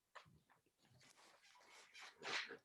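A dog gives a string of faint, scattered barks and huffs in the background, ending in one slightly stronger bark, with no one speaking over it.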